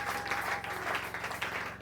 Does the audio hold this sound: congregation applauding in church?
yes